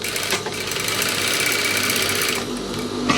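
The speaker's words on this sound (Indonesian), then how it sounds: "jahit bagian bawah kantong" A sewing machine runs steadily while stitching the bottom of a trouser side pocket, a loud continuous mechanical whir with a brief pause and restart near the end.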